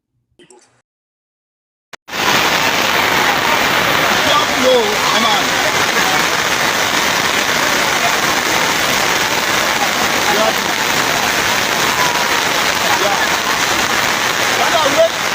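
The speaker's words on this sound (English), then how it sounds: "show the current flooding this rain season and how it devastate people in one whole neighborhood" Heavy rain and rushing flood water in a flooded Freetown neighbourhood during the rainy season: a dense, loud, continuous wash of water starting suddenly after a brief quiet moment with a faint knock, steady to the end.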